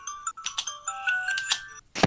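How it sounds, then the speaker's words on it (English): A phone alarm rings in a rapid, repeating electronic melody of bright beeping tones, close and fairly loud, with a brief pause before the pattern restarts. "it's the most annoying alarm on the phone"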